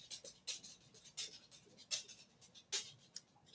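A dog pants in quick, breathy bursts, close and fairly soft, with short uneven gaps between the huffs in a quiet room.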